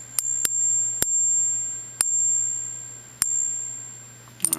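A large copper coin rings after being struck several times at irregular intervals, each sharp tap followed by a clear, high, sustained metallic tone that slowly decays, close and alone in a quiet room.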